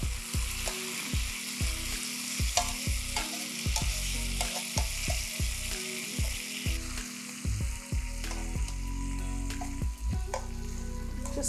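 Tempeh BBQ ribs in sauce fry in a pan with a constant loud sizzle, broken by rhythmic scraping and flipping knocks, close up and with no voices.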